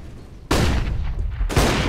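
Gunfire in Counter-Strike: Global Offensive during a professional Heroic versus Fnatic match at DreamHack Masters Stockholm, loud dense bursts of rapid shots that erupt suddenly, then a second burst close behind.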